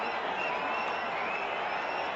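Steady broad roar of a large pro-India cricket crowd at Lord's, a dense wash of cheering and applause sustained throughout with no break.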